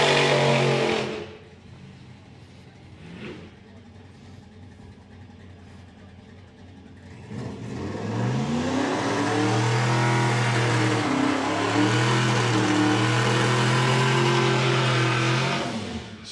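A Chevrolet Camaro drag car at a nostalgia drag racing event idles briefly, then launches with a loud, sustained engine roar that climbs and shifts pitch as it accelerates down the strip, close and dominant without talk.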